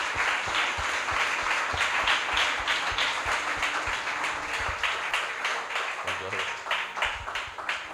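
A church congregation claps together to acclaim God, a steady rhythmic beat of many hands close by, with voices speaking and calling out over the clapping.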